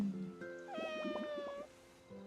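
A cat in the video game Heartopia meows, a faint, drawn-out synthesized call laid over a soft chiming game tune, with no talk.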